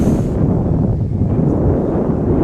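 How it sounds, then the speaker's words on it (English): A big gust of wind sweeps across an outdoor boys' soccer field, a loud, close roaring buffet against the microphone lasting a couple of seconds. "Big gust of wind."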